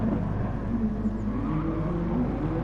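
Race cars at Le Mans heading into a tight right-hand corner, a loud continuous engine roar with a shifting droning pitch, close and without pause.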